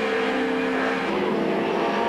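2-litre touring cars, including a Vauxhall, race in the 1990 British Touring Car Championship, a steady loud engine drone held high as the cars run flat out together, with no voices.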